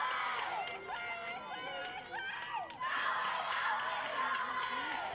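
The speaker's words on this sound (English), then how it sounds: "You can hear the Tornado dugout now getting into the game and screaming support for Susie Peltz." Players in a high school tournament softball dugout scream and chant support for a batter, a lively chorus of high youthful voices shouting in bursts at moderate distance.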